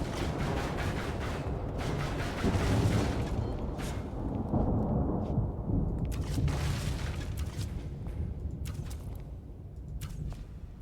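Deep rolling thunder from a lightning strike in modded Minecraft 1.20.1, a long, sustained rumble with swelling booms and scattered sharp crackles over about ten seconds.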